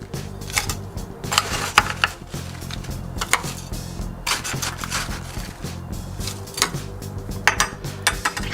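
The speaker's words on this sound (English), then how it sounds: "I'm going to cap that off with some ice." Ice cubes clatter into a glass for a parsley julep cocktail, a run of sharp clinks and rattles spread over several seconds, close and fairly loud with no talking.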